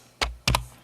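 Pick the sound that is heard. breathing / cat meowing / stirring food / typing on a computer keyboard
typing on a computer keyboard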